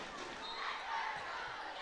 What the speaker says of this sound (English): the Charnwood crowd starting to get into this one to rally their team